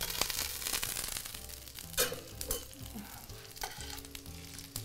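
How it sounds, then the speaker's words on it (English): Roasted brioche and roasted peaches sizzle and fry in a hot pan, with a steady crackling hiss broken by a few louder spits and stirring scrapes, close up and with no talking. "So we can put our roasted brioche right in the pan"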